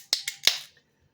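Three sharp clicks and a pop as a bottle of IPA beer is opened, the metallic snaps close and crisp with a short fizz trailing off, no voices.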